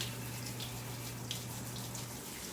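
Tap water runs steadily into a sink to rinse off a dropped spoon, a soft continuous splashing stream heard close and alone, with a faint low hum underneath.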